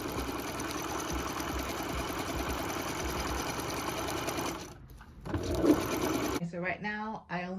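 A sewing machine stitches a seam on a recreated Alexander McQueen dress, its loud steady whirring motor running without break, then stopping briefly before a short final burst, with a voice starting up near the end.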